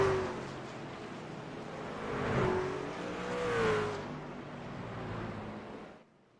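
Race truck engines at Homestead-Miami in a truck series event: a steady mechanical drone with a whining tone gliding in pitch, swelling twice before cutting off abruptly near the end.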